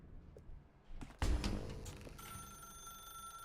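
A telephone rings in The Stanley Parable: Ultra Deluxe video game, a bright electronic ring that starts after a few soft thumps and a heavier knock, then holds steady and close.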